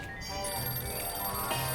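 A telephone rings continuously in the Sam & Max Save the World video game, a steady electronic bell tone sustained at moderate level with no talk over it.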